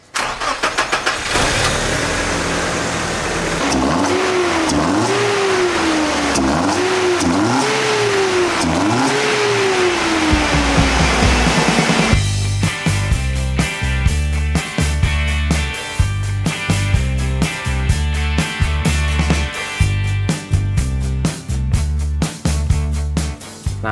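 A BMW E30 with an M40 engine cranks and starts, then revs up and down in several loud, rising and falling bursts before settling into a rapid, rough, pulsing idle close to the microphone.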